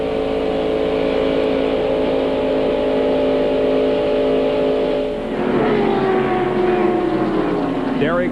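Stock cars race in the 1995 Pepsi 400 at Daytona, their engines a continuous loud roar with steady whining tones and a pass-by sweep near the end.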